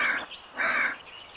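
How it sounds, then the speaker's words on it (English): A crow caws twice in a radio drama, two harsh, rasping calls in quick succession, fairly close and clear against a quiet background. "A crow? A crow tells you things."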